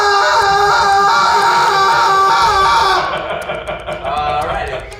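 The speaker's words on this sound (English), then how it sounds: "Raise your eyebrows up and down 10 times while screaming." Several people scream loudly together, a sustained, wavering high-pitched shriek from close by that cuts off after about three seconds, leaving scattered quieter voices and laughter.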